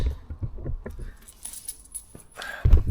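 Keys jangle in short metallic bursts near a shed project car, a few light clinks and rattles followed by a louder handling clatter at the end.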